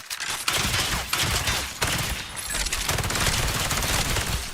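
Continuous rapid automatic rifle fire in an Unreal Engine 5 game, loud and dense with overlapping shots for several seconds and only brief dips between bursts.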